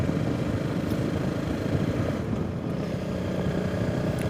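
A Honda CRF300 Rally motorcycle rides along a normal road in North Snowdonia, its engine buried under a steady, loud roar of wind rushing past the microphone, with no talking.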